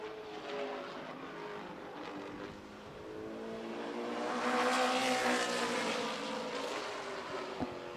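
Matt Craig's number 44 race car on a warm-up lap during qualifying at Berlin Raceway, its engine droning at a distance, swelling louder as it passes closer midway, then easing off.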